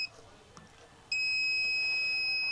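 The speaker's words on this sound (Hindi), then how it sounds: "मल्टीमीटर दोस्तों बीप मोड में सबसे पहले देखेंगे हमारा बूफर ठीक है या नहीं।" A multimeter in continuity mode beeps while testing the subwoofer of an Aiwa SB200BT sound bar; after a faint chirp, a steady loud high-pitched tone starts and holds until the end.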